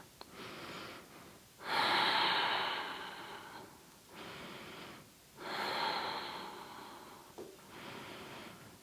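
Slow, deep breathing during a seated yoga twist, several long airy inhales and exhales in a steady rhythm, close and fairly quiet with pauses between breaths.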